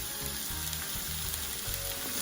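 Mushrooms sauté in a hot pan for Bisaya-style ginisang mushrooms, giving a steady, dense sizzle with soft stirring scrapes, close and even throughout.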